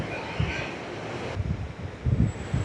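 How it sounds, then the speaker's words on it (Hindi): Steady outdoor breeze rushes at a riverside ghat near a footbridge where pilgrims walk past, a broad continuous wash of wind noise with low rumbling gusts swelling and fading throughout. "प्यारी सी हवा चल रही है"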